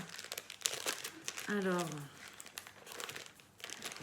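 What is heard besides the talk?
plastic surprise sachet being opened by hand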